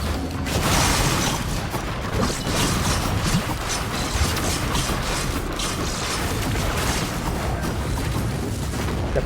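A scrapper machine in Risk of Rain 2 grinds and converts scrap with dense mechanical clanking, creaking and ratcheting booms, loud and continuous throughout amid game noise.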